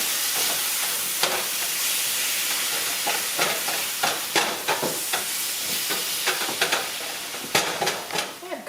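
Ground beef for enchiladas sizzles steadily in a pan, broken by repeated sharp scraping clicks as a utensil stirs and breaks up the meat.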